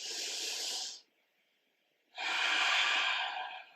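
Deep breaths during yoga, one long airy exhale, a second of near silence, then a long breath in, close and breathy with no talk.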